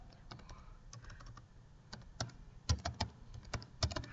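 Typing on a computer keyboard while writing in MS Word: close, fairly quiet key clicks in an irregular rhythm, sparse at first and then quicker and louder.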